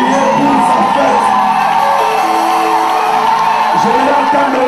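Church congregation crying out and whooping with joy during worship, a dense, loud wash of many voices shouting together throughout.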